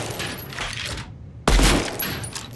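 Gunshots in the shooter game Deadrop, loud bursts of rapid fire close by, cutting to a short silence midway before another sharp, heavy volley erupts and carries on to the end.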